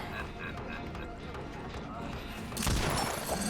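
A Deathslinger's harpoon gun firing in the Dead by Daylight video game: a sudden loud broadband crack that bursts out late, over a steady bed of game noise and footsteps.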